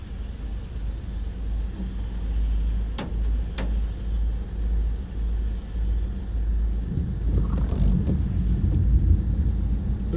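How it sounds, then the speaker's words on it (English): A storm in the Carolinas brings a deep, low rumble of thunder that rolls and swells near the end, over steady wind noise buffeting the microphone; no voices. "Ooh, did y'all hear that thunder?"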